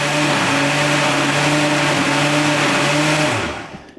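A blender whirs loud and steady as it mixes fresh fruit soup, a constant close motor drone that winds down and stops near the end.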